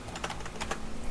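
Computer keyboard keys pressed in a Path of Exile gaming setting, including shift and home, as a run of close, quick clicks and taps at a steady low level with no talk over them.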